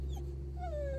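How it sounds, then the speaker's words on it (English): A dog whimpers and cries from inside a vehicle stopped in Clarenville on a road trip, with rising and falling whines over a steady low engine or road hum. "you're probably going to hear my dog crying"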